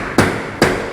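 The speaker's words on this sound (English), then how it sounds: "take a big old rubber mallet and start hammering" Big rubber mallet striking around a large glass window on a Philippine house build, two solid, close blows about half a second apart with a third starting at the end, each a dull thud with a short ring.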